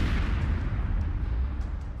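A Javelin missile strikes a disabled Russian tank, setting off a short, dull, muffled boom that rolls and fades over about two seconds, sounding distant and not very powerful.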